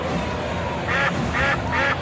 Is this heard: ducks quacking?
yes